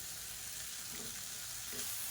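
Tomato and a handful of coriander leaves sauté in a pan for chutney, a soft, continuous sizzle with faint stirring scrapes, quiet and steady throughout.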